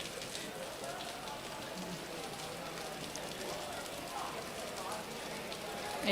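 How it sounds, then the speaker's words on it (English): Steady rain patters across a para-athletics stadium in Bengaluru during an outdoor competition, a continuous dense hiss with faint voices mixed in under it. "Rains have just stopped the competition."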